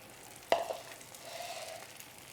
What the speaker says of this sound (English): Let's add all of our canned tomatoes